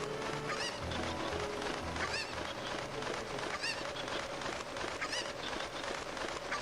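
A chicken (cucco) in the video game Zelda Ocarina of Time squawks and clucks in repeated bursts over steady game music and ambience.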